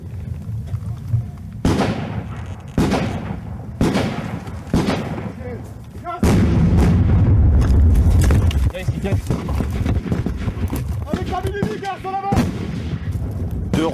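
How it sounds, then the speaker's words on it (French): Rockets exploding about fifty metres away during combat in Afghanistan, heavy booming blasts and cracks erupting in bursts, with a sustained loud roar midway, voices and shouts underneath. "Deux roquettes viennent d'exploser à 50 mètres"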